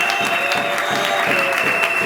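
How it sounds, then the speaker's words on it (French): Audience applause greeting women honoured as heroines at a Congolese political rally, a dense, steady wash of many hands clapping at close range with no gaps for the full duration. "je vais vous demander pour la seconde fois de les acclamer"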